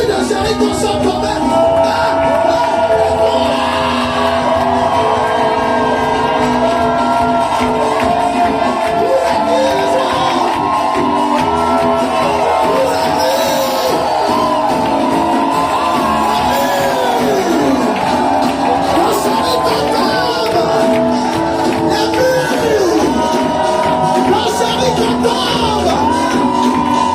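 A church congregation shouts and whoops with loud cries of joy, a dense, sustained wall of many voices with individual yells rising and falling throughout.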